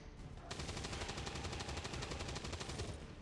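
Rapid automatic gunfire from a video game shooter, a dense rattling burst of shots that starts after a half-second and keeps up steadily for nearly three seconds, loud and continuous over a low rumble.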